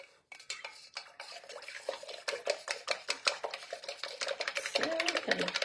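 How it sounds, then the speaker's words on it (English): A straw stirs a drink with ice, producing rapid rattling clicks and clinks that build in density and loudness over several seconds, close to the listener. "have a straw, stirring it up"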